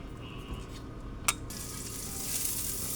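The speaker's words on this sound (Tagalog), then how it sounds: "Mainit na yung kawali mga kalangga. Maglalagay tayo ng oil." Oil hisses and sizzles in a hot frying pan on a home stove. The sizzle starts after a brief clink and keeps crackling steadily and close at hand.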